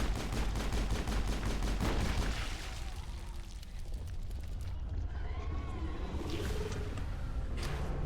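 Gunfire from a Mass Effect battle, rapid bursts of shots crackling through the opening seconds, then thinning to scattered sharp reports over a busy background of game noise and effects.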